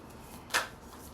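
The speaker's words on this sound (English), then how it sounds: "Sorry, I had to turn the cards around." A single quick papery swipe as tarot cards are turned around on a table, brief and close against a quiet background.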